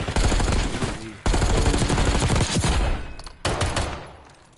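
Rapid gunfire rings out in a competitive video game match as a player shoots a pistol, sharp shots packed into dense loud bursts with two brief pauses before the firing trails off.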